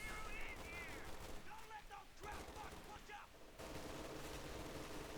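MG42 machine gun fire from a strategy video game comes in rapid bursts with dense rattling reports. It mixes with other battle noise and is heard under commentators' voices.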